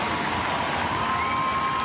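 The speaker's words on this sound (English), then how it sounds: "The crowd standing ovation for Yuta." A basketball arena crowd at a George Washington vs Fordham senior night game gives Yuta Watanabe a standing ovation after his career-high 31 points, a steady, dense wash of applause and cheering that fills the whole space without a break.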